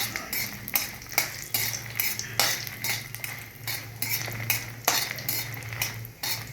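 Green chillies and cumin stirred with a metal spoon in a pan, giving steady scraping and clinking strokes at an irregular rhythm, with a faint sizzle and a low hum beneath, close by and no voices.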